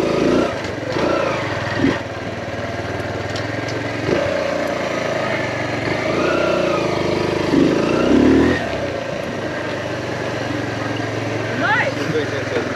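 A motorcycle engine with a sidecar runs at high revs with a steady, buzzing drone and occasional surges, heard close and continuous under people chatting and exclaiming.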